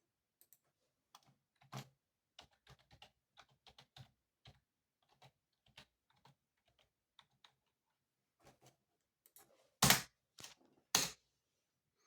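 Sparse, irregular keystrokes on a computer keyboard while a name is entered during Windows 7 setup on an old 2009 PC, quiet single taps building to a couple of loud, close thumps near the end.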